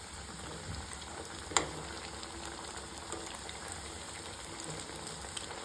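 Chana dal snack frying in oil in a kadhai over a medium gas flame, giving a steady, even sizzle with faint crackles and one sharp pop partway through, no voices.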